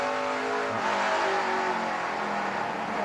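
A NASCAR Camping World Truck Series truck engine at Lucas Oil Raceway, Indianapolis, pulls hard under power, a loud sustained race-engine drone with shifting pitch and no speech.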